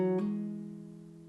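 A single guitar note sounded by a hammer-on at the 2nd fret of the 4th string, played within a capoed C chord; a brief pluck quickly rises in pitch, then the tone rings on and slowly fades, alone.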